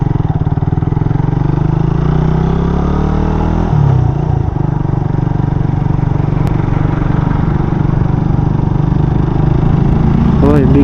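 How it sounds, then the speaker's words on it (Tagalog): A big bike motorcycle engine runs loud and close with a steady rumbling drone on a hillside road in Tanay, Rizal, with a slight shift in pitch partway through. "Uy, big bike."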